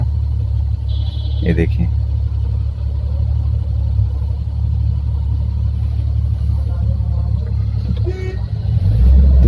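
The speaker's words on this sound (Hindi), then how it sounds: "देखिए एक गाड़ी निकली।" A lone car passes along an empty road during a Bharat Bandh protest shutdown in India, its engine rumble swelling nearer toward the end while someone speaks over it.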